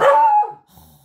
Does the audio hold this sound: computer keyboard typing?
no